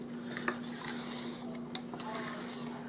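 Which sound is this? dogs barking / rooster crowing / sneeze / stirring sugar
stirring sugar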